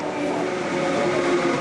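A passenger train pulls into a Korean railway station as holiday travelers wait to return home, a steady rumbling wash of rail noise held at an even, fairly loud level throughout.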